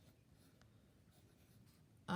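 Marker scratching across a whiteboard in a quiet room, a soft continuous squeaky drag with brief strokes, then a sudden loud knock or handling noise at the very end.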